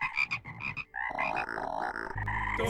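Frogs croak in the video game Talos Principle 2, a run of bright chirping croaks followed by layered sustained tones and a rising game chime, fairly close and without talk.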